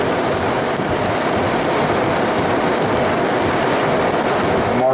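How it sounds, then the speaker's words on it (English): Hail from a strong summer storm in the West Midlands hammers down in a dense, steady roar, loud and unbroken from start to finish with no voices. "It's getting bigger, especially the speed of the hail."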